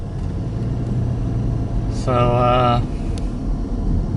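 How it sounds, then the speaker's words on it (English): A car drives along University Avenue in Gainesville, Florida, with a steady low engine rumble and road noise throughout, while a voice talks briefly over it and a short tonal sound rises midway. "this is what it's like driving University Avenue in Gainesville"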